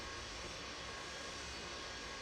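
A plane crossing overhead gives a continuous rushing engine drone, steady and moderately loud for a couple of seconds, with no talking over it.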